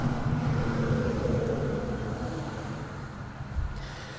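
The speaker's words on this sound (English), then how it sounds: "another contractor that I know just drove by" Contractor's vehicle passing by outdoors, a broad low rumble that starts loud and gradually fades as it moves away.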